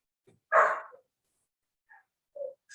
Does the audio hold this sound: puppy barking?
yes